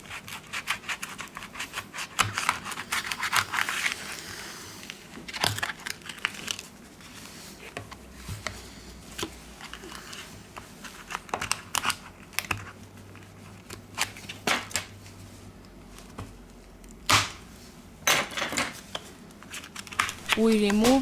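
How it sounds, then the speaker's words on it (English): Ultra-thin plastic card prying at the adhesive under the back cover of an LG K50 phone, with intermittent scraping, clicking and rubbing noises at close range. "We use a ultra-thin plastic card to soften the adhesive."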